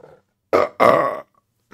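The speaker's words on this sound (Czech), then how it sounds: "Teď byl koment, že strašně moc krkám." A man lets out a loud, close burp in two throaty bursts, the second longer and drawn out, after a brief murmur.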